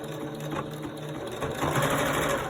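Sewing machine stitching face mask fabric, a steady close mechanical whir that holds through the clip and grows slightly louder and faster toward the end.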